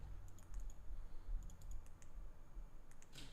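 Scattered clicks of someone typing on a computer keyboard during an online poker session, irregular short bursts of keystrokes over a low background hum.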